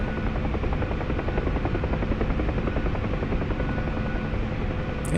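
Bell UH-1 Huey helicopter in the DCS flight simulator, its rotor chop and turbine whine a steady, loud, continuous drone with no voices.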